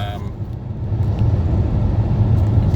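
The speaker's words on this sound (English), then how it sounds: "Just doing a bit of night driving with the PHEV now." A 2019 plug-in hybrid car driving at night near Willunga Hill, South Australia: steady low road rumble and tyre noise from inside the cabin, constant and fairly loud, with no talking.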